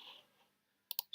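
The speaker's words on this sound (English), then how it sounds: "I'm going to just press D on my keyboard" A few sharp computer keyboard key presses, two quick taps close together followed by a third burst, near and crisp after a brief quiet stretch.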